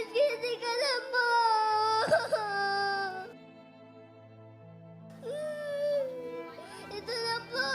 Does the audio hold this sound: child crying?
yes